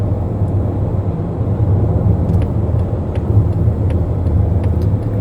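A car cruising along a desert highway from Las Vegas toward Santa Clarita, California, a loud steady road roar and engine hum from inside the cabin, continuous and unbroken, with no talk.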